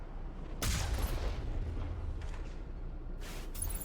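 Gunfire in the video game Mass Effect Legendary Edition: a sharp burst of shots near the start, then a rumbling battle wash, and another loud burst near the end.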